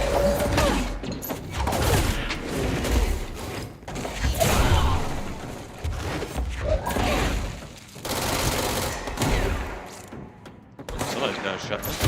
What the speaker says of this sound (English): Somebody's got a shotgun.